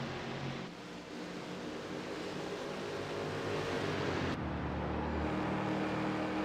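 Ford Mustang race cars racing at Lime Rock roar steadily at a distance. Their engines blend into a continuous wash that swells slightly as cars pass. A commentator talks over the sound.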